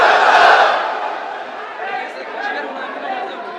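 A large crowd at an Islamic religious gathering answers with a loud, unified takbir battle cry, swelling at the start and then fading into a murmur of crowd chatter.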